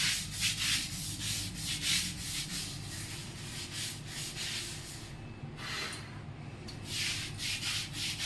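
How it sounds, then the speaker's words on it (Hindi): Hard scrubbing of a dirty surface during house cleaning, repeated rhythmic rubbing strokes, loud and close, with one short pause before the rubbing starts again. "रगड़ते रगड़ते हाथ दुखने लग रहा है।"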